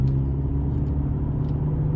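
A Ford Escape driving down the road, a steady loud engine and tire rumble heard from inside the car, continuous with no talking.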